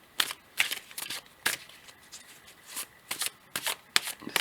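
Marseille tarot deck shuffled by hand to draw a card, a run of crisp riffling bursts and soft card slaps in uneven rhythm, close and alone with no talking.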